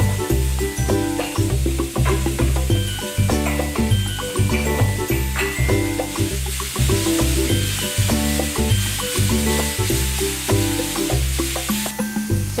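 Sliced onion sizzling in hot oil in a frying pan, a steady loud crackle running throughout, mixed with a bed of background music.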